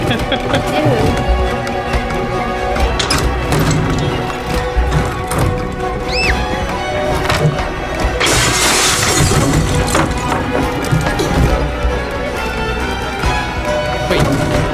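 A stained glass window shatters in the video game Detroit: Become Human, a loud crash of breaking glass within busy game sounds and effects, with people talking throughout.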